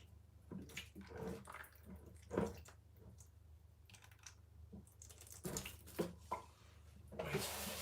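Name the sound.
water poured into leek pots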